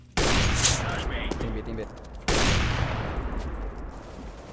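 Bursts of gunfire in the video game CS:GO: two loud, sustained volleys of rapid shots, each dense and ringing before fading, with a player talking over the second.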